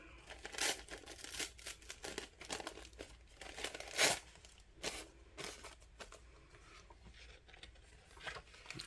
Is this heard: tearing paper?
yes